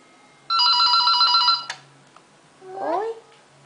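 A telephone rings with a bright electronic trill for about a second in a quiet home, followed by a child's short vocal sounds.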